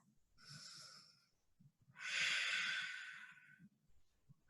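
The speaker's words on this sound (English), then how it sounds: "Take a breath." A person draws two deep, audible breaths during a slow yoga flow, a shorter airy inhale followed by a longer, fuller breathy rush, close and clear with faint low murmurs between.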